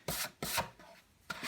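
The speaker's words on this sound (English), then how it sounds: "So you're gonna want to do dry brushing." Dry brushing paint onto a 28mm miniature crew ship model: three dry, raspy bristle scrubbing strokes, each roughly a third of a second, close and fairly quiet, with short pauses between.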